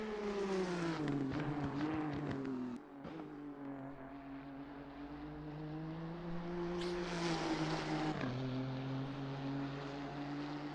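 A Nissan GT-R race car laps Bathurst in the Assetto Corsa Competizione video game, its engine droning loud and continuous with rising and falling pitch through gear changes and corners; no one speaks.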